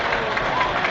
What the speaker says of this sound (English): to a rousing cheer